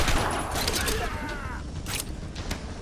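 A henchman's gun firing in Batman: Return to Arkham Asylum, played on hard difficulty, a rapid crackle of shots under a dense, busy game mix with creaking mechanical sounds. A person talks during it.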